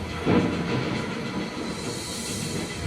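A train hauling closed freight wagons rumbles along with a broad, steady noise and a hissing wash that stays loud and unbroken throughout.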